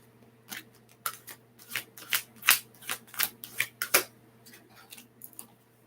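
Archangel oracle cards shuffled by hand, a run of crisp riffling flutters and slaps repeating in an uneven rhythm, close and fairly quiet with no talk.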